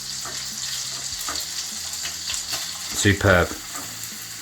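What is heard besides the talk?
vegetables frying in a pan, stirred with spatula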